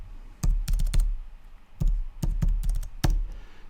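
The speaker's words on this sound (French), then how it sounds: "Je sors mon instrument de capitaliste, la calculatrice, et je vais taper 5000 fois 3500." Calculator keys pressed to enter a multiplication, a series of crisp, close taps in uneven clusters of two to four with short pauses between them, no voices.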